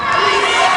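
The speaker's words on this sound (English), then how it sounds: "Good to hear the crowd coming alive with the defense champ" A basketball crowd at a Memorial vs BG game roars and cheers loudly on defense, a dense, sustained wall of shouting voices throughout.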